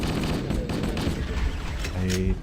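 Gunfire in the video game S.T.A.L.K.E.R. Anomaly cracks out in a quick volley of sharp shots, fairly loud and close, with a voice talking over part of it.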